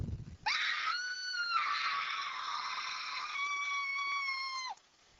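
A single shrill, sustained shriek of horror rings out for about four seconds at full loudness, rising sharply at the start and cutting off abruptly.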